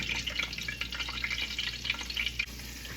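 Floured chicken frying in hot oil, a steady close sizzle with dense crackling and popping throughout, no talk.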